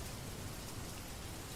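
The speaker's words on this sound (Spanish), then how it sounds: "Solo el sonido de la lluvia sobre hojarasca y un rumor de arroyo gordo" Rain falls steadily on dead leaves as a soft, even hiss of many drops. It is faint and continuous with no other sounds.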